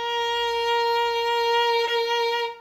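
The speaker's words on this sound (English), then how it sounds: "So a B flat sounds like this." A single sustained B flat bowed on the A string of a string instrument, a steady, clear tone held for a couple of seconds with rich overtones, close and alone.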